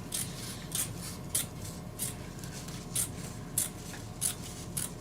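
Scissors make steady, evenly spaced snips through lacquered fiberglass cloth, roughly two crisp cuts per second, close and fairly quiet over a soft background hiss.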